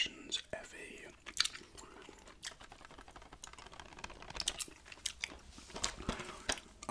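Gum chewed close to a sensitive microphone in a quiet room for ASMR, moist clicking and smacking bursts in an uneven rhythm, with soft whispered talk woven between them.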